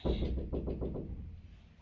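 Knocking at a home door: a series of about six firm, evenly spaced knocks close by, trailing off into quiet room tone.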